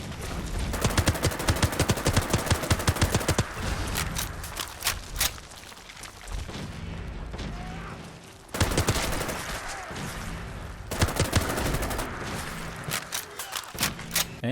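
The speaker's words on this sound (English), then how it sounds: "With all those mods on, this is how combat looks and sounds in my game." Rapid bursts of gunfire ring out in modded video game combat, staccato volleys that are close and dense, pausing between clusters, with thuds and other battle noise under them.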